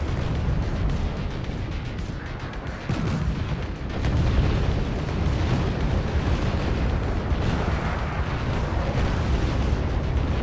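A tank assault in a wargame battle, a dense, rumbling wall of explosions and artillery fire with overlapping booms and bursts that continue without pause throughout.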